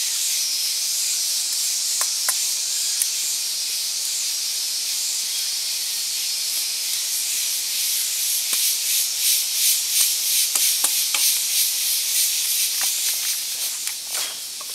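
Wet firewood burning in a campfire gives a steady, close hiss like escaping steam, with scattered crackles and pops that grow more frequent toward the end; no one speaks.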